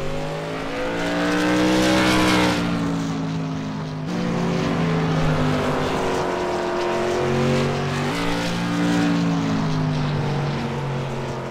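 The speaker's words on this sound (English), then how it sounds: "Randy Murphy is going to be the next car out on the track here. He is taking his first official lap here" A race car taking its first official lap on the track roars past with a loud, continuous high-revving engine whine, pitch rising and falling through gear changes as it accelerates away.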